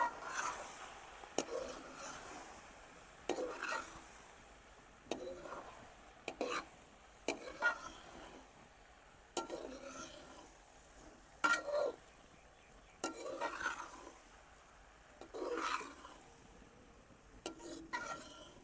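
A utensil stirs and scrapes food stuck to the bottom of a frying pan, with repeated quiet scraping strokes at an uneven rhythm, village-style iftar cooking in a home kitchen.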